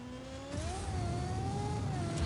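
A car in Just Cause 4 accelerates hard with boost, its engine note climbing and then holding a steady, strained whine over a low rumble, loud and close.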